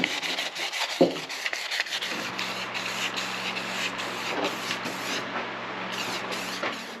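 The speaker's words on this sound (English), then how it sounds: "We're going to sand this thing down, get a little bit of paint on it" A Mitsubishi Outlander door handle is sanded by hand, with steady scratchy rubbing strokes that run continuously at close range and have no talk over them.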